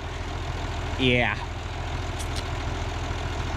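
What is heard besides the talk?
1950 tractor engine idling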